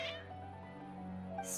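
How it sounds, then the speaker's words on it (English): Cats in the game Genshin Impact meowing in a worked-up way, a couple of short meows at the start and end over a steady musical hum and background tones. "Strange. Your cats seem pretty worked up."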